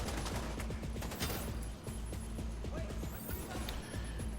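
Enemy gunfire in the shooter game The Division 2, a busy stretch of repeated shots and impacts with some low thumps, running continuously under other game noise.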